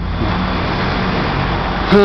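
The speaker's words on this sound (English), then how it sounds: "I almost got hit by this very, very big car" A very big car rushes past close by, a loud, steady roar of engine and road noise that fills two seconds and ends abruptly.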